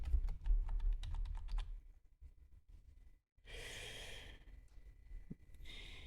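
Computer keys pressed in quick clicking bursts at close range, followed by quieter breathing and a rushing sigh-like noise.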